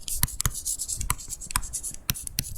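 Chalk or marker strokes on a board during an algebra lesson, a series of sharp, separate taps and scratches in an irregular rhythm, close and fairly clear, with no voice over them.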